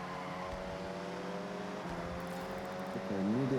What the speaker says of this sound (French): T'as mieux dérapé que ça sur ce virage.